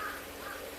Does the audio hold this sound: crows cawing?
yes